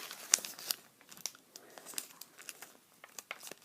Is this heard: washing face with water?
no